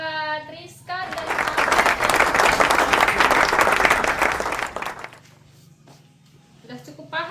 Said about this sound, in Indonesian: tepuk tangan buat Rizka dan